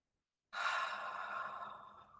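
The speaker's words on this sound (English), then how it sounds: "And just breathe." A single long, soft exhale during a gentle yoga class for breast cancer recovery, starting after a brief silence and slowly fading, breathy and close.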